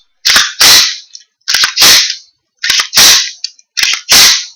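Function checks on a freshly reassembled firearm: four evenly spaced pairs of sharp, loud mechanical snaps from the action and trigger, each followed by a brief broadband clack, close up with no talking.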